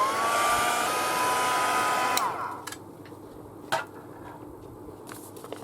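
A hair dryer blows hard on a journal page for about two seconds, then cuts off, leaving a quiet room with a few light clicks and taps.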